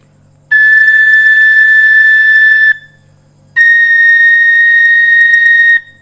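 Two sustained, steady high tones on a Thai rosewood flute in B-flat, each a G note held about two seconds with a short silent gap between, clear and alone.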